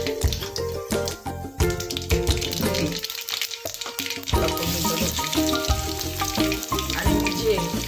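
Curry leaves frying in hot oil in a kadhai used for frying bhaji, giving a busy, crackling sizzle under loud background music that keeps playing through the whole clip.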